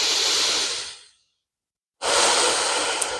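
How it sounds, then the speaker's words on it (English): A deep breath during a yoga practice: a long, close, airy exhale fades out, then after a brief silence a strong inhale rushes back in, loud and breathy with no speech. "let's take a deep breath together"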